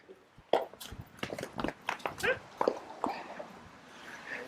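A dog barking and yipping on arrival at a home, a quick run of short close barks and whimpers, mixed with people talking nearby.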